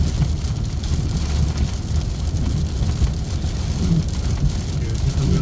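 Steady rain drumming on a 2021 Ford F150 Powerboost truck while driving, a constant even wash of patter over low road rumble, close and moderately loud with no breaks.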